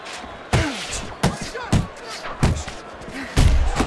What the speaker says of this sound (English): Little head knocking with that right hand